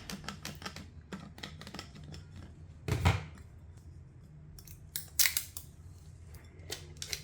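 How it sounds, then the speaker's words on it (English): Vinyl decal burnished onto a Libbey glass with a tool, making rapid close scraping and rubbing strokes in quick clusters, with a couple of louder thuds and rubs standing out. "give it a little bit of a burnish"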